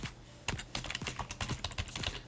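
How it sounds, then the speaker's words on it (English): Rapid, uneven clatter of computer keyboard keys, close and clear, a continuous run of taps with no talking. "I'm typing things here"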